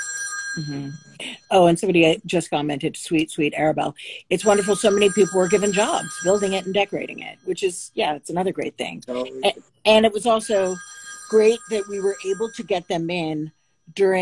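Old analog wall-mounted landline telephone ringing with a thin, repeated electronic-sounding trill, kept low beneath a continuous conversation between two people talking over it.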